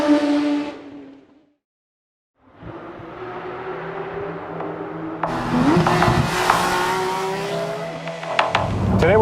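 A Porsche 911 GT3 RS, a non-turbocharged engine, revving and driving hard, heard loud and close with rising engine tones, a short silent gap, then strong acceleration and tire squeal.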